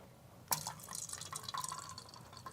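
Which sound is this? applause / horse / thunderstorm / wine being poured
wine being poured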